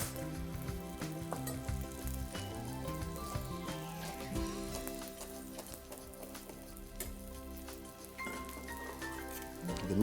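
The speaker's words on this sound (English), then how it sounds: "egg is cooking there" An egg frying in a pan, sizzling steadily and close up for the whole stretch, with light clinks and stirring noises over a layer of quiet background music.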